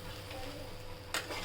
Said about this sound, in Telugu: ఇప్పుడు కలుపుదామండి.